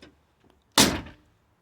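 A Buick Roadmaster Wagon tailgate swings open in door mode, with one loud, close latch clunk and a short rattle that dies away quickly. Faint knocks come just before it.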